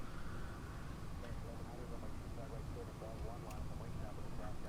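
Airliner engines hum steadily as a FlightFactor Boeing 757 taxis in the X-Plane 11 flight simulator, a continuous low rumble with faint whine, unchanging throughout.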